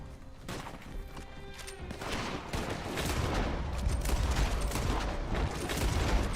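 Gunfire crackles in the Western shooter game Red Dead Online, dense rapid shots building into a heavier, continuous barrage over several seconds.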